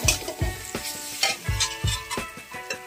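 Dal fry being tempered in a home kitchen pan, a crackling sizzle punctuated by repeated stirring scrapes and clinks in an uneven rhythm, close and fairly loud with no talking.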